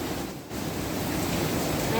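River Dee water rushing past an old mill wheel in Llangollen, a dense, continuous roar of flowing water close by with no pauses.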